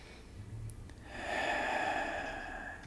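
A slow, deep breath taken during a yoga pose, a quiet inhale followed by a longer, louder airy exhale close to the microphone.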